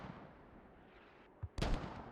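Mortar fire in the tactical shooter game Squad: a sharp blast thumps out, then a louder booming impact rolls on over a constant battlefield rumble, with no one talking.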